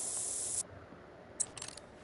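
Scent spray hisses in the hunting game theHunter: Call of the Wild during a night bison hunt, a steady half-second spray followed by a few shorter faint bursts.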